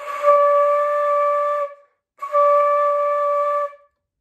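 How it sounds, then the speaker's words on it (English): A flute sounds a held C sharp, fingered with only the right pinky, playing two sustained tones of about a second and a half each, separated by a short pause, steady and clear with no voice. "And C sharp should sound like this."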